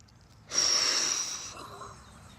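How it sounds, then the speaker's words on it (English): A single long, forceful breath out, close and loud, rushing for about a second with a slight whistling edge before trailing off into quiet. "I like to breathe out that last breath"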